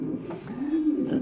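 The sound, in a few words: pigeon squab cooing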